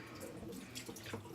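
Water runs from a kitchen faucet into a pan left to soak after cooking taco hamburger helper, a steady splashing rush that is fairly faint and continuous throughout.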